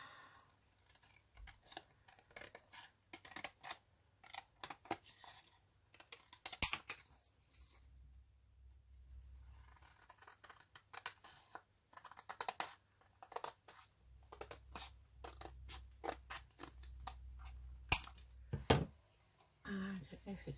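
Scissors cut through paper ephemera for an altered book, giving scattered crisp snips and rustles, some in quick runs and some isolated, close and fairly quiet, with a voice talking at times.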